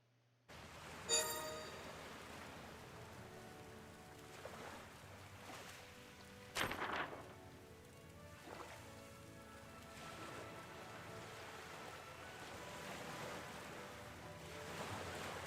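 A sailing ship at sea in the video game Uncharted Waters Origins: faint, continuous wash of waves and water with a few soft splashes and surges, a low ambient bed with no voices.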